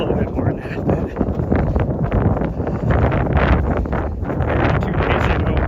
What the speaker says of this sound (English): I'm trying to shelter the camera as much as I can so you don't get so much wind noise